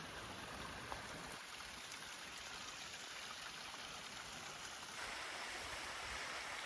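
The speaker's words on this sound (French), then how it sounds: "Il n'y a pas un bruit à part le bruit de l'eau." A mountain stream on a trail up Baegundae Peak in Bukhansan National Park rushes in a steady, close wash of water with no pauses; it grows slightly louder near the end.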